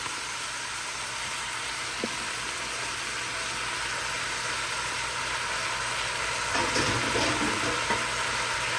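Brussels sprouts, onions and potatoes stir-frying on high heat, a steady dense sizzle that fills the whole stretch, with a few clatters of stirring near the end and no talk.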